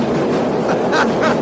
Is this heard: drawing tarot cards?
no